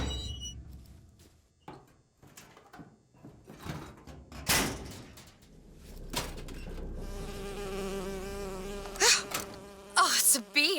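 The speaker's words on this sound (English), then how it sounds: "Oh, it's a bee. I hate these things." Bee buzzing in the video game Bioshock Infinite, a wavering, nasal hum that rises and falls in pitch among scattered thuds and game effects, with brief louder bursts near the end.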